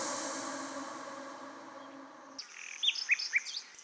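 Exotic birds chirp and call in bright, short high-pitched bursts that rise clearly above a quiet background. The calls are sharp and rapid, coming in after a sustained tonal wash fades out.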